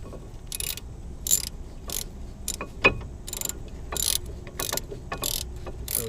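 Bolts tightened with a ratchet during brake rotor replacement on a 2008 Ford Focus: a close, irregular series of sharp clicking ratchet bursts with brief pauses and a couple of louder metallic knocks, no talking.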